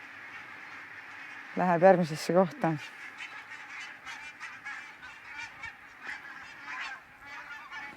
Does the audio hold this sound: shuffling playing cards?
no